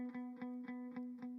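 An electric guitar repeats a single B note through an effects unit with distortion, five even plucks in swung eighth notes over a steady sustained tone, played alone and close.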